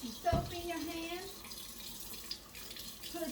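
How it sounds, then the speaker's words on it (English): Tap water runs steadily into a sink during handwashing, a soft continuous hiss with a short splash near the start and a faint voice underneath. "Put your hands under that water and scrub it"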